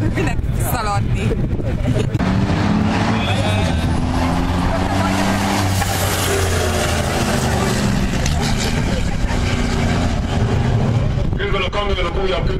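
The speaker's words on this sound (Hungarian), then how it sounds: "Közben a kamionok újabb köröket rúgnak" Renault racing trucks lap the Hungaroring circuit at a 2012 World Series by Renault truck show, their heavy engines a loud, continuous, close roar throughout, with a voice talking over the din.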